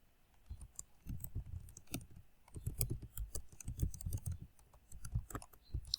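Code being typed on a computer keyboard while building a React portfolio website, with a steady run of close, crisp key clicks in irregular bursts and short pauses, no talking.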